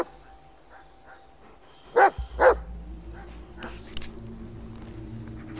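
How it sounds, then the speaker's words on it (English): A dog in the Blair Witch video game gives two sharp, close barks, then a few softer yips and whimpers over a low ambient rumble, with no talk. "Yeah, good dog."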